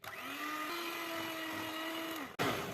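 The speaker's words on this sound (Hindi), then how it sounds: "तो अब हम इसको तकरीबन ऑयल और आइसिंग शुगर को 5 मिनट तक हम इसको बीट करेंगे" Electric hand mixer beating oil and icing sugar for a chocolate marble cake batter, a steady whining motor hum that holds pitch, briefly cuts out near the end, then restarts.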